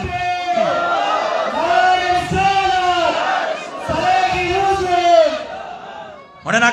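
A large crowd at an Islamic sermon gathering shouts a sustained, rhythmic chant of takbir in unison, loud and reverberant, rising and falling in repeated phrases.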